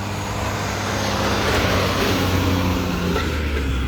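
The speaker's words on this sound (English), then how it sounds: "There goes that FedEx truck." A FedEx delivery truck drives past, its steady broadband road roar filling the whole stretch at a loud, even level with a faint low engine drone underneath, with no voices.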